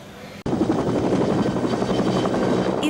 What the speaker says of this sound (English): Army helicopters flying essential personnel in and out